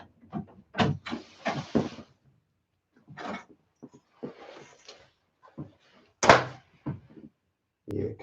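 A house door swings open in a home with cats, giving a few separate knocks and creaks with quiet gaps between them, close by and moderately loud.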